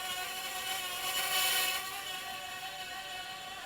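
A JJRC/Eachine H8 Mini quadcopter drone spinning fast in a yaw, its tiny motors giving a steady high-pitched whine with several tonal layers, close and continuous, swelling briefly louder midway before settling back.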